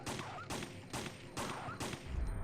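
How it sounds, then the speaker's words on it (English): A rapid-firing handgun in Resident Evil 3 fires five sharp shots in quick, steady rhythm, each with a brief echoing tail, and nothing else is heard. "Look at this rapid-firing handgun that we have now."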